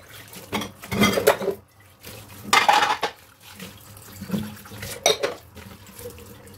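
Dishes get washed at a kitchen sink, with running tap water surging in bursts and pots, plates and cutlery clinking and clattering close by in an uneven rhythm, broken by brief quiet gaps.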